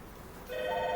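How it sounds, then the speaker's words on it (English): A telephone starts ringing partway through, its steady electronic tone holding clear and fairly close indoors after a quiet opening. "Where's the phone?"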